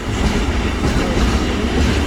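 A long train passes close by near the Dutch border, a loud continuous rumble and roar of wheels on rails, steady from start to finish with no voices.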